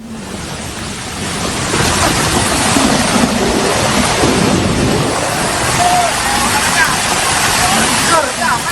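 Floodwater surges in a broad, steady roar after heavy rain in Sentul, Bogor, as overflowing rivers carry mud and rocks onto a main road. The loud, continuous rush runs throughout, with a voice talking over it.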